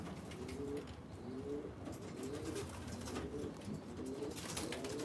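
Birmingham Roller pigeons cooing softly at a loft, a repeated rhythmic series of low rolling coos about once a second, faint against quiet background rustle.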